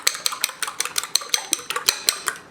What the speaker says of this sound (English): You're going to take your fork and you're going to begin to scramble that in the bowl